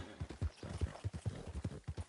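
Horse hooves clip-clop in Red Dead Redemption 2, a quick, steady rhythm of close, fairly loud hoofbeats continuing throughout.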